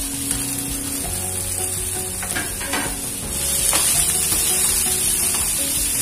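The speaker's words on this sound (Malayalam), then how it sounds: "അടുത്തതായിട്ട് വേവിച്ചിരുന്ന പയർ ഇതിലോട്ട് ഇട്ട് കൊടുത്ത ശേഷം ഒന്ന് ഇളക്കി കൊടുക്കാം" Cooked red cow beans are stirred in a hot pan, giving a steady close sizzle and frying hiss with scraping stir sounds that grow a bit louder toward the end.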